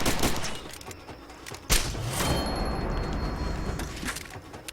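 A single sharp pistol shot cracks out loud in a video game, sitting among the game's background noise and scattered gunfire-like bursts.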